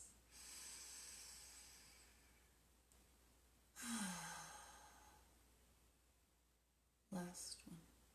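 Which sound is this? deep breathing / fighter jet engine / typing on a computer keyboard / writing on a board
deep breathing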